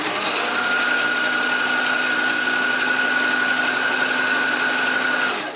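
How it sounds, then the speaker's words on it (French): Domestic sewing machine stitching across fabric held with pins, a steady, continuous mechanical whir with a faint hum running unbroken for several seconds before easing off at the end. "Et la machine, elle peut passer sur les épingles."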